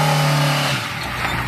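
A car engine revs hard with a strong low throttle roar that drops off partway through, then settles into a rougher, quieter running rumble, close and loud with no talking.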